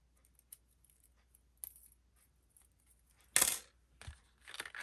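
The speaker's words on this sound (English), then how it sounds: "Let me grab a paper clip. And I'm just going to clip it there for now" A paper clip is slid onto a piece of paper for a mini album craft, giving a short, sharp metallic scrape and snap near the end, with soft paper rustles before and after.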